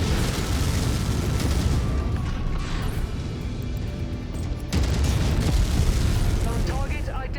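A destroyed tank blows up in MechWarrior 5: loud, rumbling blast noise that roars continuously, then surges again with a fresh heavy burst about two-thirds through, amid ongoing battle din.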